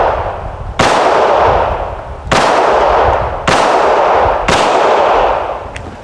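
Four loud gunshots from a Hi Point C9 pistol at a shooting range, each a sharp close blast with a ringing decay, irregularly spaced over a few seconds.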